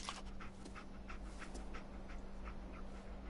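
Dogmeat, the dog companion in Fallout 4, pants in quick, steady breaths over a constant low hum. The panting is faint and continuous, with no talk.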